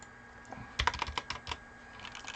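Close, quiet computer keyboard typing: a short run of about a dozen crisp key clicks over faint room hum, with no voices.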